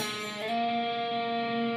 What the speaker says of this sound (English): you're going to slide your middle finger up 2 frets to the 4th fret